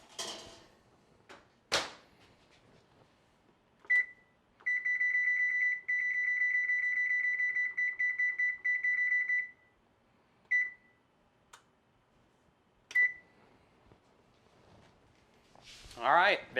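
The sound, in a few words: oven beeping while setting temperature and timer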